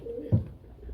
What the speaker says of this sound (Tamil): இது நம்ம சாதா புறாவோட குஞ்சு தான்